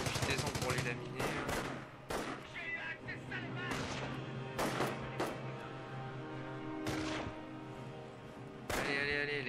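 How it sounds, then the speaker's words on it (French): Heavy machine gun fire in Company of Heroes, with repeated sharp bursts and loud cracks over a constant rumble of battle, continuous for several seconds. "on va faire une mitrailleuse lourde"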